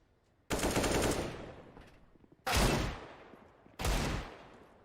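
Gunfire in Counter-Strike: Global Offensive at a pro match, three loud bursts of shots, each starting abruptly and trailing off, separated by short quiet gaps.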